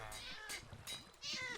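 Minecraft cats meowing at an iron farm in Bedrock Edition, with three or four short, close, clear meows in quick succession.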